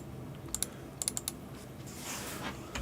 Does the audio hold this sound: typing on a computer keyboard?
yes